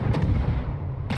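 A warship fires an artillery broadside in a naval video game: a loud, sustained rumbling boom fills the moment, and a second sharp blast begins just as it ends.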